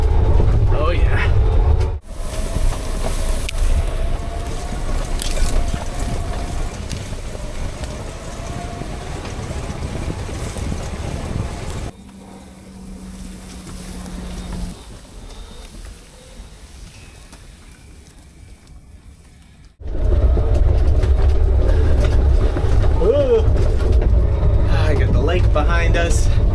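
Off-road electric camper driving along dirt trails, a steady loud rolling drive with low rumble and road noise, interrupted midway by a quieter stretch with a faint low tone before the loud driving resumes; a voice talks over it.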